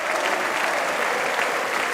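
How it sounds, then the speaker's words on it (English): Football crowd at a Wrexham v Derby County EFL Championship match gives a steady, dense ovation of applause as Kabore leaves the pitch, with the clapping sustained and broad throughout. "Kabore getting an ovation from the crowd on the near side as he works his way back to the dugout."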